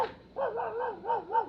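A dog gives a quick run of three or four wavering, yelping barks, moderately near and alone.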